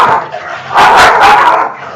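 Dogs fighting, with loud close barking and yelping bursts, the most intense snarling flurry in the middle.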